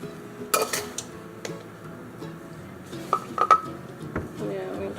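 Eggs and two cups of sugar being mixed in a bowl for old-fashioned Christmas baking: a utensil clinks and scrapes against the bowl in irregular bursts, with quiet stirring between the louder knocks.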